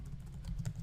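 Quick, light clicks of fingers typing code on a computer keyboard, a brief close-up patter of several keystrokes at low volume.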